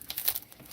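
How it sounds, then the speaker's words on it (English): A plastic bag crinkles right against a camera microphone in a physical therapy setting, a close, loud, rustling crackle with several quick crisp bursts. "it's a plastic bag in the camera"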